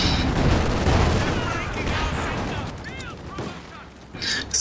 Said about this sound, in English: Someone's shooting us.